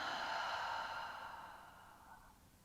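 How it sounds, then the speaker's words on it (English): A single long, soft exhale through the nose and mouth after a deep belly breath during a yin yoga session, breathy and close, fading out gradually over about two seconds. "Take a deep breath deep down into the belly. And then exhale it out."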